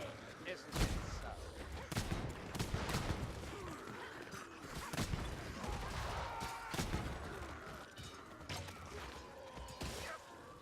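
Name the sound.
gunfire in the video game Vermintide 2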